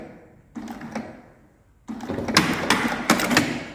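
A sewing machine stitches a leather coin pouch with pink thread, running in two close, rattling bursts, a short one and then a longer, louder run, with a pause between them.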